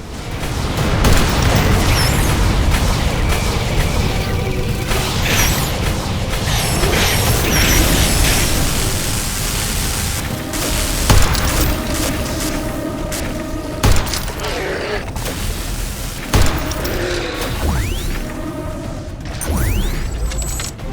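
A tower being destroyed in The Riftbreaker sci-fi game sets off a dense, loud barrage of rumbling explosions and crashing debris, with sharper blasts punching through near the middle and end. No one talks.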